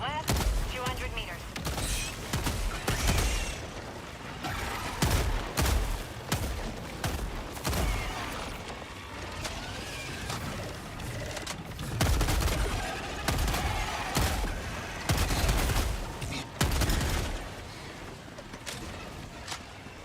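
Rapid bursts of Breaker shotgun fire in Helldivers 2 combat, dense and repeated over twenty seconds, with overlapping explosions and chatter mixed in.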